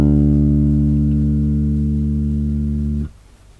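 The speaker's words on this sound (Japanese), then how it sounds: "E の音になります。" A bass guitar sounds the note E on its D string, one long sustained tone with rich overtones that holds steadily for about three seconds and then is cut off abruptly, heard alone.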